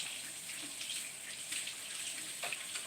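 Tap water runs steadily into a kitchen sink as dishwater is drawn, a soft continuous hiss and splash held close and fairly quiet throughout, with no talking.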